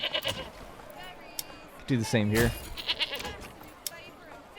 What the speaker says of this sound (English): Yeah, let's get some goats there.